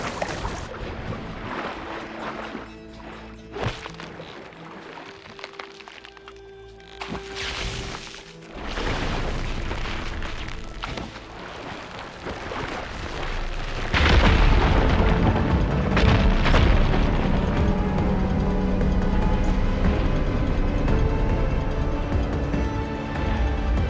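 Fire gleam rocks blow apart in Horizon Forbidden West, with heavy booming blasts and crashing debris, followed by a loud, sustained rumbling roar of rubble and water noise.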